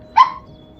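A single short dog bark rings out close by and on its own, then fades quickly into quiet.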